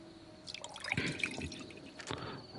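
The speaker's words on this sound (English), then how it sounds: "let's just fill up as much water as we can" Water trickles and drips into a sink in Tavern Manager Simulator, a short, fairly quiet run of splashing and dripping that swells then tapers, with no voice over it.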